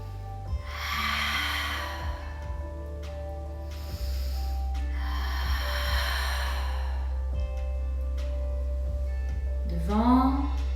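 Breathing during a pilates exercise, with long airy inhales and exhales in separate bursts over a low steady hum, and a short rising voiced sound at the end.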